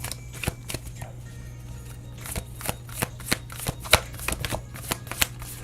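Tarot cards being shuffled in a string of quick papery riffles and snaps, steady and close, with a low constant hum underneath and no talk.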